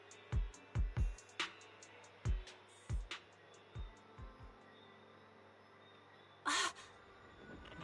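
A bird caws in Zenless Zone Zero, a series of sharp, loud crow-like calls in quick bursts, several grouped early on and a later harsher cry, over a quiet game background hum.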